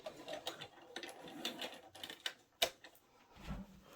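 A sewing machine back stitches a mitered corner, producing faint, irregular mechanical ticks and short clicking bursts close by, with a sharp click near the end and a brief low thump.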